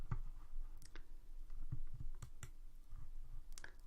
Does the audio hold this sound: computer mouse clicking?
yes